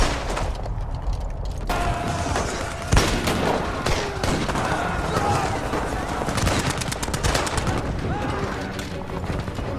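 Dramatised battle against German soldiers with improvised weapons: dense bursts of rifle and machine-gun fire, sharp cracks and booms layered into a loud, continuous fusillade over rumbling background.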